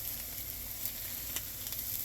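Chicken parmesan topped with cheese sizzles steadily in a pan on low heat, a continuous close crackle and hiss with occasional pops.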